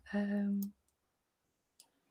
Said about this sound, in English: I can't remember what buttons I'm supposed to be clicking just now.